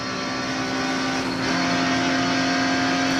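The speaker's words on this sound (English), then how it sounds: "Can-Am car on the left" A Can-Am race car passes by at the 1998 Rolex 24 at Daytona, its engine a loud, sustained steady drone with a strong tonal whine that swells slightly as it goes by.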